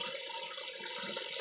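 Water from a new spout, fed through a bent pipe, runs steadily into a hybrid aquaponics fish tank inlet, giving a constant broadband splashing wash with a faint rhythmic pulse and no talking.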